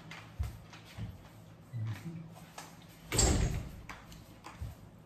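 A door being closed in a home, a soft thump followed by a louder close and rattle amid scattered household knocks and faint voices in the background.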